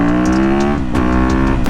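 A supermoto motorcycle's engine revs hard and loud up close, a strong rising and falling roar with quick throttle blips and no talking.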